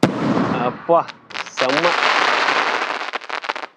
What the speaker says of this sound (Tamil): 4 இன்ச்சு பாருங்க ஃப்ரெண்ட்ஸ். பாப்பா எப்படி வெடிக்குது.